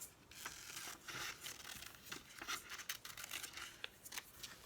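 Scissors snip paper pieces out in quick, close, irregular cuts with papery crinkling between them, alone and fairly quiet.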